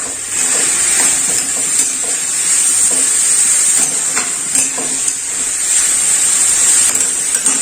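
Tomatoes and green chilies fry and get stirred in a pan, with a steady loud sizzle and hiss and occasional scraping stirs throughout, no voices.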